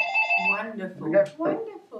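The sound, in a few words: telephone ringing in the background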